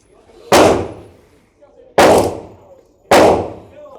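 Three loud, close pistol shots from a Sarsilmaz handgun on an outdoor shooting range, spaced about one and a half seconds apart, each a sharp crack with a brief ringing tail.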